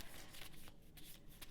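Tarot cards are shuffled by hand in a quiet room, a soft run of papery riffles and flicks in quick irregular bursts, close and fairly faint, with no one speaking.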